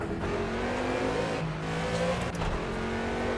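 Aston Martin V8 Vantage GT4 race car in the Project Cars racing game, its V8 engine droning and revving steadily and loudly throughout, with pitch shifts as it accelerates and slight tire noise, no talking.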